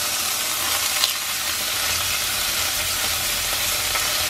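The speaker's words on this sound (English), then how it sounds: "if the chicken or any meat that you're cooking or you're kind of searing on a pan" Chicken sizzling as it sears in a hot pan, a loud steady frying hiss with crackling spatter that holds evenly throughout, close and without talk.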